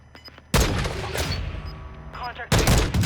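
Loud bursts of rapid gunfire from a Warzone 2 battle royale match, two heavy volleys crackling close up with game sounds between them.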